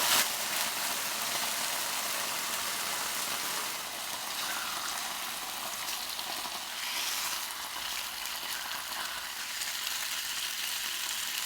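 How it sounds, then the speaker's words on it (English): Pork grilling in a pan of hot vegetable oil for a ginger pork stir-fry, giving a steady, loud sizzle and crackle that runs without a break. "Grill the pork, then take out of the pan."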